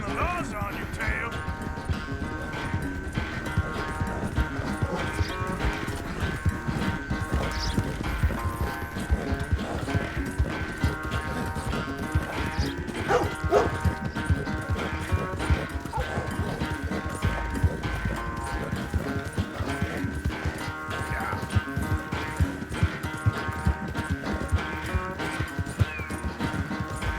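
Horse hooves galloping in Red Dead Redemption 2, a steady rhythmic clip-clop running throughout alongside music, with occasional voices talking over it.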